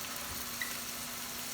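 Burgers sizzle faintly in a hot, oiled pan, a steady, soft frying hiss with one tiny pop and no speech.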